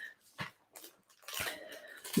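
A puppy whining close by in a few short, soft, broken whimpers separated by brief pauses, quiet overall with a slightly louder final yelp.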